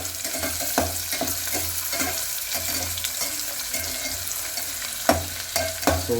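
Onions and curry leaves fry in a pan, a steady sizzle with scraping stirs and occasional sharp clinks of a utensil against the pan, up close.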